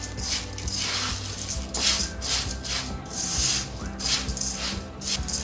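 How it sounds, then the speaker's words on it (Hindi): Crispy poha chivda, flattened rice being tossed and stirred in a pan, making a loud, dry rustling and scraping in repeated sweeps with a faint rattle throughout. "आप इस आवाज़ सुन सकते हैं कि ये किस कदर क्रिस्पी हो चुके हैं।"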